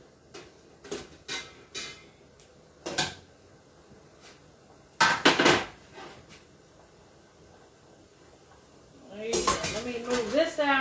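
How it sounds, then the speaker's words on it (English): Drained cauliflower is dumped onto a metal pan, giving a series of clanks and scraping clatters, with a long metallic rattle near the end, close and loud over a quiet kitchen with faint talk. "I'm just going to dump it right out on this pan right here because I need it to cool off real quick"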